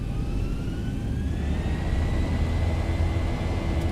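Boeing 737-800 jet engines spool up to takeoff power in X-Plane 11, a loud, steady roar with a rising whine that climbs and holds over a deep rumble.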